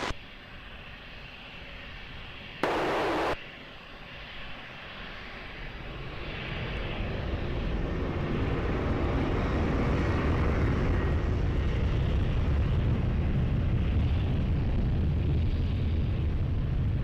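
An airplane takes off at Lisbon Airport. After a brief click, its engine roar swells steadily from a low rumble into a loud, sustained, deep broadband roar that holds to the end.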